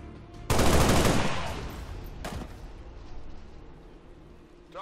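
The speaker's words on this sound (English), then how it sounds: "we can follow up with a pistol shot" A single loud, close pistol shot in the strategy game XCOM 2, with a sharp broadband crack and a long echoing decay, followed by a fainter second report about two seconds later and lingering game ambience.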